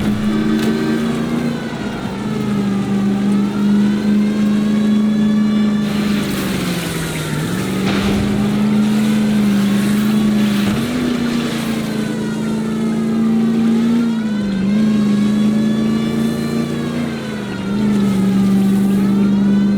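A car in the L.A. Noire chase revs hard and loud, its engine tone rising and falling through gear changes and swerves, steady and close with no talk over it.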